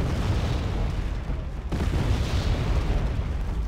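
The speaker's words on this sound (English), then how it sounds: "Wasted artillery strike. 2 volleys on something that's already dead." Artillery strikes in a war video game land as continuous, heavy rumbling explosions, with a brief dip midway before another volley rolls in. The booms are loud and broad with no talk.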